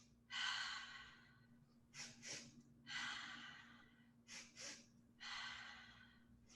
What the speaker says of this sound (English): go 2 quick physiological inhales followed by 1 exhale